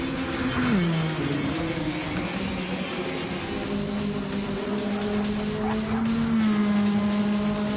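Race cars in a racing video game take a turn and a hairpin on the High Speed Ring circuit, with steady engine tones shifting pitch as they brake and accelerate and tires squealing through the bend, a continuous loud engine drone.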